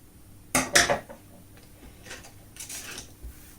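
Scissors cut through a folded strip of knit neckband fabric for a baby T-shirt, giving two close crisp snips followed by softer, fainter snips a moment later, with no talking.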